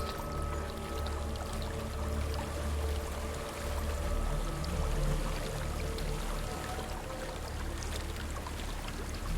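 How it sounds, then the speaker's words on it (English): Waterfall in the video game Hellblade: Senua's Sacrifice, a steady broadband rush of falling water heard at moderate distance with no voices over it. "There's a waterfall."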